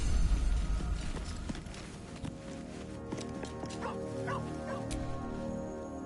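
In the Baldur's Gate 3 video game, a dog barks and yips a few times amid dense game sound and music, the barks fairly clear in the middle of the scene.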